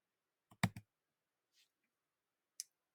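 Scattered clicks of computer keyboard keys being pressed, one quick double click followed by a couple of faint, isolated taps, close and quiet with no talking.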